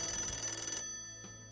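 An old electric telephone bell rings in one bright, buzzing burst that stops abruptly, followed by a faint echoing tail and a soft click.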